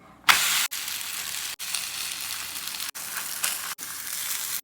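Roti frying in oil on a pan hisses in a loud, steady sizzle that flares sharply at the start and keeps going in bursts, split by brief cuts, close by and alone.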